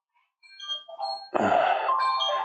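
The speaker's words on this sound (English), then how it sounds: "There's our timer." A workout interval timer goes off with a series of bright electronic beeping tones, then a louder sustained chime-like alarm sound rings out, with no talking.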